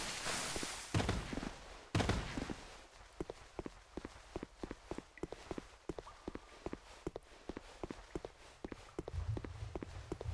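Footsteps through grass in Dark Souls 2 fall as a soft, regular patter of quiet steps, with a few louder rustling bursts near the start and no talking.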